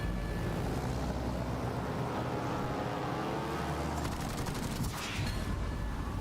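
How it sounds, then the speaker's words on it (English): Rocket hits and an enemy destroyer exploding in a naval warship video game, a dense rumbling battle din with crackling blasts and a sharp burst near the end, loud and continuous with no talk. "Enemy destroyer blown up."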